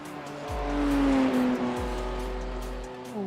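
A race car slides on cold tyres during a testing run for the Bathurst 12 Hour in a racing simulator, engine droning with shifting pitch under a brief high tyre squeal, loud and close, with no talking.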